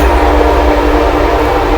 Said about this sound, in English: Oh, here comes the train.